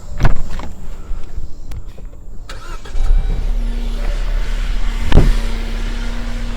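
Jeep JL Wrangler with the 2-liter engine idling steadily and a Hurricane cooling fan whirring, with a few sharp clicks and knocks over the continuous mid-pitched hum.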